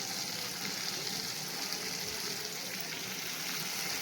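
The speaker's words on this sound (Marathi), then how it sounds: "आलं लसूणची पेस्ट घातली, थोडंसं परतायचं." Ginger garlic paste sizzles steadily in a hot pan while being sautéed for an Agri-Koli style val bean dish, a continuous close frying hiss with no talking.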